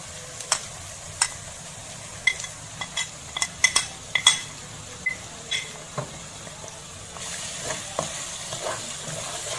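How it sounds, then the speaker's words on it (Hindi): Spices frying in oil over a medium flame, a low steady sizzle punctuated by sharp clinks and scrapes of a metal spoon stirring against the pan, irregular and close. "अब चम्मच की मदद से इन मसालों को हम अच्छी तरह से मिक्स कर लेंगे।"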